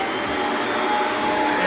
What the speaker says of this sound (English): then we'll go ahead and vacuum it really good